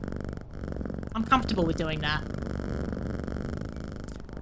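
A cat purrs in a video game as it is petted, a low, steady rumble running under a voice.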